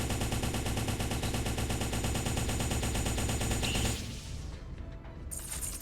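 Lock-on missiles firing in the mech combat game M.A.S.S Builder: a dense, loud, rapid rattling barrage of launches that runs for about four seconds, then drops into a quieter rumbling tail with no voices over it.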